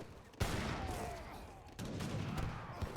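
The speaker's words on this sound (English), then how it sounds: "He's going to tank a few heavy cannon shots" Heavy cannon shots boom in an Age of Empires 3 battle, two loud blasts about a second and a half apart, each followed by rumbling battle noise and scattered gunfire.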